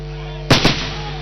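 Fireworks at a National Assembly of Zambia ceremony: two loud, close booming bursts in quick succession over a steady background hum, with a brief rumbling tail afterward.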